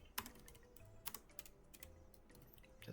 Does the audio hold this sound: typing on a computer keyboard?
yes